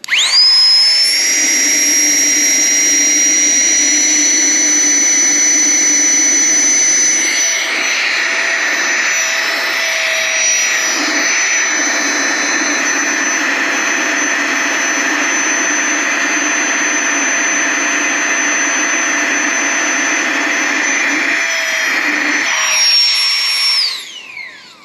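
A Flextail Tiny Pump 2X runs continuously for about 24 seconds while trying to deflate, giving a loud, steady high-pitched whine with a jet-like airy roar. It starts and stops sharply at each end, and no one talks over it.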